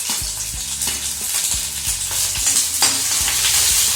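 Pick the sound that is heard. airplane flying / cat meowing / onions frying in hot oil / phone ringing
onions frying in hot oil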